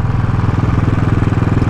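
A warmed-up Royal Enfield Classic 500 motorcycle engine idles with a steady, loud thumping pulse, close by and continuous with no talking.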